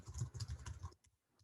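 A quick run of soft keystrokes on a computer keyboard, several rapid taps close by, then stopping abruptly into near silence with a faint click or two.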